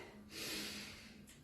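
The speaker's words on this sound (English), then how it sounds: "Take a deep breath in. As we breathe out" A deep breath out during a Pilates roll down comes as a single close, breathy rushing exhale lasting about half a second, followed by softer breathing.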